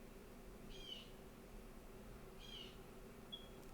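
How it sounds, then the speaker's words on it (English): A small bird calls in or just outside a house: two short, high, trilling chirps about a second and a half apart, faint and fairly distant over a low room hum. "we do recognize there's a bird somewhere maybe in this house or right outside of the window"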